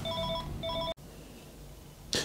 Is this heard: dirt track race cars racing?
no